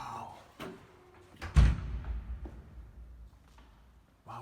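A church's heavy double door swings open with a low thud and creak, followed by a lingering rumble in a large, resonant interior, with brief knocks before it.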